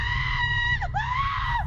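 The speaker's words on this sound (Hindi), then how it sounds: "ये देखकर उसने चीख मारी" A girl lets out a long, loud, sustained scream of horror with a wavering pitch, clear and close, over a low rumbling background.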